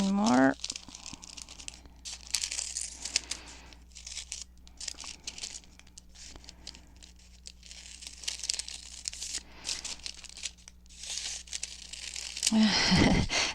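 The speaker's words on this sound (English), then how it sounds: "I have to concentrate to cut a circle" Scissors crinkle and slice through wax paper while cutting circles, a steady stream of close papery rustles and snips, with a brief voice near the start and end.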